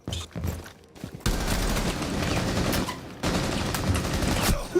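Rainbow Six Siege gunfire: short bursts of rapid automatic shots, close and loud, broken by a brief quiet gap and then resuming in sustained volleys.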